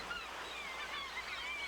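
A dense seabird colony of mostly murres and kittiwakes on a small island off Newfoundland's southern shore, many overlapping honking, goose-like calls forming a steady distant chorus with a faint surf wash beneath.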